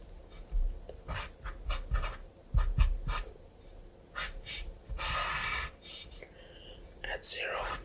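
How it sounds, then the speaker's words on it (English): A Sharpie marker scratches and squeaks across paper in short strokes while a voice whispers through a math lesson. The pen strokes sound close and intimate, broken by brief pauses. "So, what happens when we start writing the 2 out?"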